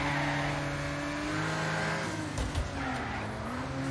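A damaged race car in Wreckfest, its left side broken, roars with a steady engine drone while tires screech and skid, the pitch shifting midway as it slides sideways and speeds on.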